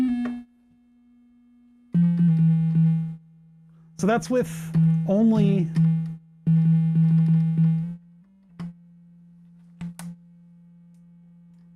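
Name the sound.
cheap AliExpress theremin tone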